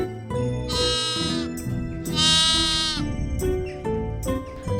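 Sheep and goats bleat on a farm: two long, wavering, nasal bleats ring out one after another, followed by shorter calls, with faint jingling and low background sounds in between.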